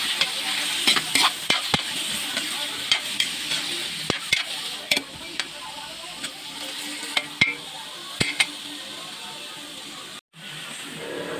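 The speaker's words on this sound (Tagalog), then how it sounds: "igisa lang natin ulit kasama ang sibuyas bawang" Squash sizzles in a pan as it is sautéed with onion and garlic for a coconut-milk crab dish, a steady close frying hiss broken by repeated sharp clinks of a utensil stirring and scraping.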